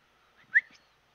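A person whistles at someone: a single short, sharp whistle in an otherwise quiet moment.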